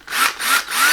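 Power tool drilling through wire coat hangers, a close whirring grind that surges in three quick pulses with no talk over it.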